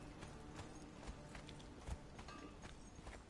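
Horse hooves clip-clopping at a walk in a video game, a soft, quick run of light hoof taps over a constant background wash, fairly faint.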